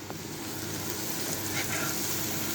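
Chili con carne mince and spices are stirred in a hot pan, producing a soft continuous sizzle with faint scraping and no voices.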